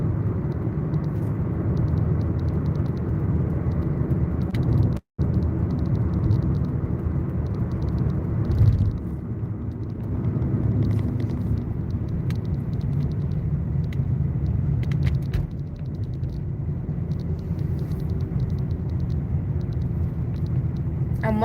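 Steady rumble of road traffic from passing cars, heard from inside a vehicle during gig-work driving, a constant low drone with occasional swells and a person talking over it.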